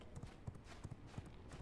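Horse hooves clip-clopping in the video game V Rising, a faint, steady rhythmic trot of hoofbeats roughly three per second.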